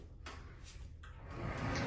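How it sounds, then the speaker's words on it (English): A glass sliding shower door in a spacious hotel bathroom with a walk-in shower glides along its track: a few soft, brief rolling scrapes and bumps, quiet and close, with no talking. "The glass sliding doors."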